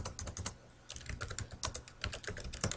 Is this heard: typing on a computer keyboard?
yes